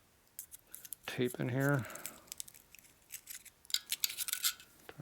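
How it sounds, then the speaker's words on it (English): Glue pops and cracks as a 1947-49 Guide chrome tombstone taillight is pried open: scattered sharp snaps and crackles, with a short spoken remark in between. "Hear the glue popping off."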